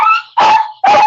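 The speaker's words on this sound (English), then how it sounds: "Dog is in the same room as you" Two loud, close dog barks indoors, each a sharp burst followed by a sustained howling tail, separated by a brief pause, with no talking.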